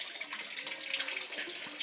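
Water runs steadily from the inlet of a home aquaponics system feeding two grow beds, a soft continuous splashing flow with no talk, close and fairly quiet throughout.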